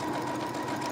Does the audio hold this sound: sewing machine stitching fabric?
yes